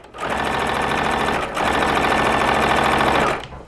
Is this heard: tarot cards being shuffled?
no